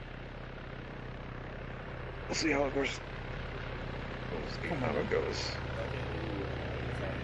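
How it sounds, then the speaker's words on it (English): Helicopters in Arma 3 make a steady rotor and engine drone, a constant low rumble throughout, while people talk over the radio. "I'm gonna shoot these helicopters one day."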